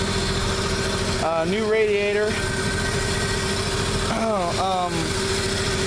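A rebuilt 235 cubic-inch inline-six in a 1949 Chevy pickup, fitted with a newly rebuilt carburetor, idles with a steady low rumble throughout while someone talks over it up close.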